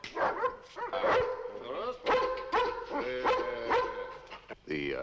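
A dog barks and yips in short bursts with whimpering tones, close and fairly loud, mixed with dramatic background music and no clear speech.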